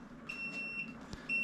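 A brewday timer alarm sounds during an imperial stout partigyle brew, emitting repeated high electronic beeps in short bursts over a low background hum, fairly clear and with no talking.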